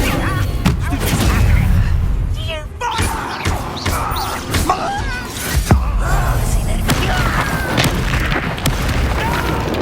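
A fire spell cast in Hogwarts Legacy bursts out with loud booming thuds and crackling impacts amid dense battle effects, with a game voice calling out over the din.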